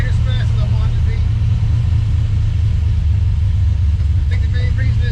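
An LS-swapped Chevy Vega with nitrous and a big-displacement motor with small heads rumbles steadily while driving, a loud, deep, constant drone that never lets up.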